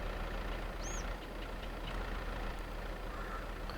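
A steady engine rumbles inside Farming Simulator 22, coming from a red, blue and green tractor. It idles continuously and fairly evenly at moderate loudness, with a brief high chirp near the start and no talking.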